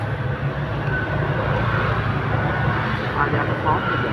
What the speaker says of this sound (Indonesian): Ada pesawat guys ya